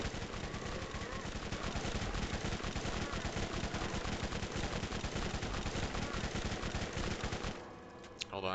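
Sustained rapid gunfire from weapons in the video game Borderlands, dense and loud with fast repeating shots for most of the stretch, cutting off near the end into quieter game sounds; no talking over it.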